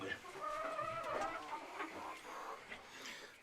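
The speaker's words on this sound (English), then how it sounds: "So these are the hens" Hens cluck faintly in a farm coop, scattered soft calls and murmurs at a distance with a brief voice mixed in.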